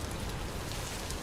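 Steady rain in the video game Vintage Story, a dense, even hiss of falling drops with a low rumbling undertone, continuous and fairly loud with no voices.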